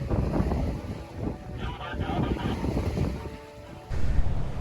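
Morgan sailboat under way at about 9 knots in strong wind, with gusty wind buffeting the microphone and water rushing past the hull, loud and continuous with a strong gust near the end.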